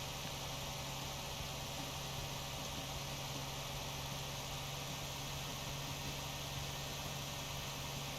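A steady, faint hum from a truck engine running in the driving game Motor Town, with the truck pulling a tanker, continuous and unchanging throughout.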